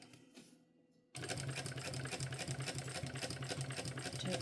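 A sewing machine bastes backpack panels together, running with a fast, even stitching chatter after a quiet start with a few light handling sounds.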